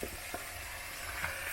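Githeri being stirred in a cooking pot, a soft steady sizzle with faint scraping strokes, close and continuous with no talk.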